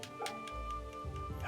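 A dog in the video game Fate/Samurai Remnant gives several quick light yips and barks over a low game soundtrack hum, faint and fairly even in level.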